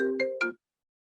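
A phone ringtone goes off during an interview training session, a short melodic electronic tune of a few tones played once, clear and close, then cut off into silence.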